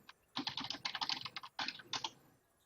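Rapid keystrokes clatter on a computer keyboard, several quick bursts of typing separated by short pauses, close and fairly quiet, with no talking.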